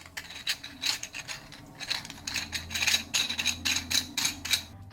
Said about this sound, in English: One of the things that I didn't like about this design is the scratchy sound